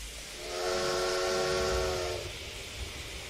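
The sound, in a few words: steam train departing in Train Simulator Classic video game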